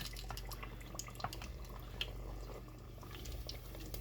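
An egg deep frying in hot oil gives a soft, steady crackle and bubbling with scattered small pops, faint and continuous with no talk.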